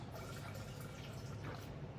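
Imazamox herbicide is squeezed from a plastic container up into its measuring chamber, a faint, soft gurgle and trickle of liquid over a couple of seconds.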